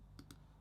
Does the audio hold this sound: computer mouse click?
yes